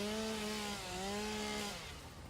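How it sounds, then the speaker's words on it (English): Chainsaw in the video game Satisfactory, a close, loud motor whine with a steady pitch that wavers slightly up and down, continuous for the whole brief burst before tapering. "I need to take chainsaw into hand."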